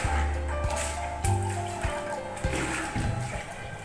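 A wet towel wrung out by hand, water pouring and splashing down close by in uneven gushes over a low background hum, without any talking.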